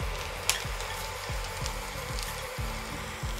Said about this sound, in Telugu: ఆనియన్ ముక్కల్ని మనం ఫ్రై చేసుకోవాలి ఆయిల్లో